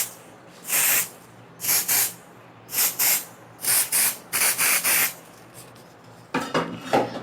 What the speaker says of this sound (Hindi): अब इस पे हेयर स्प्रे करेंगे